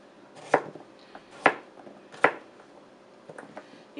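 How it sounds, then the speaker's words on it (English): Knife slicing through beef on a cutting board for a St Patrick's Day beef soup, three sharp, distinct chops followed by a few softer cuts near the end, close and clear with no talk. "Then I'm just going to slice it in half."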